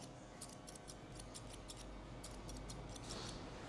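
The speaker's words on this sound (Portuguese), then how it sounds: "Tesoura rápida e o pente vai devagarinho" Quick, steady snips of scissors trimming hair with the scissor-over-comb technique, blending the sides into the top during a haircut; light, rapid metallic clicks repeat close up over a soft background hiss, with no talking.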